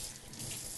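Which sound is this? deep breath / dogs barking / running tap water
running tap water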